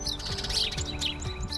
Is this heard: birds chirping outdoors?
yes